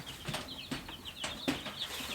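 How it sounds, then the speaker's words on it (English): Fourteen week-old baby chicks peep in a brooder under a heat lamp, a steady stream of high, thin cheeps repeating close by, with a few soft thumps and rustles in the bedding. "We got 14 baby chicks, and they are just the stinking cutest"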